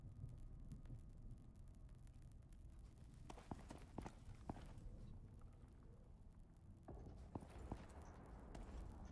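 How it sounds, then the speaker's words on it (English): Heavy stomping footsteps from outside a base in the survival game Icarus, a few dull irregular thuds spread through the clip over a constant low rumbling ambience. "Did I hear some stomping around outside somewhere?"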